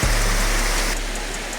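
Water of an underground river rushing steadily through the Cueva Alfredo Jahn cave in Barlovento, Venezuela, a loud, continuous broadband roar like a stream or small waterfall, close and unbroken, with no voices.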